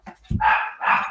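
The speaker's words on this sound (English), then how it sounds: "my dog just started barking" A dog barks twice, loud and close, two sustained bark bursts in quick succession, with no talk over them.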